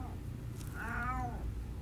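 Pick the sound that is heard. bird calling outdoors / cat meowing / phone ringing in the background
cat meowing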